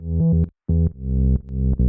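A synth bass repeats the same low E note three times, each note sustained with brief gaps, loud and close with no other sounds.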